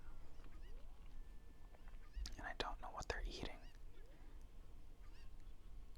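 Cuckoo chickens from The Legend of Zelda: Ocarina of Time in Kakariko Village give a short cluster of clucking, honk-like calls, with soft whispered talk running throughout.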